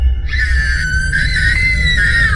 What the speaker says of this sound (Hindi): तुम इतनी जोर से चीख क्यों रहे हो?